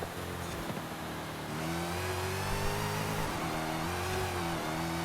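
A 2015 Dodge Charger Hellcat SRT accelerates hard in a racing game, its engine revving up through rising harmonic tones with a brief dip and then a loud, sustained pull, close and alone.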